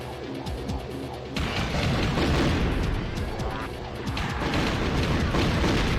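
A rocket-firing bike in the N64 game Blast Corps, loud booming blasts and crashing impacts that roll on continuously, surging after a quieter opening.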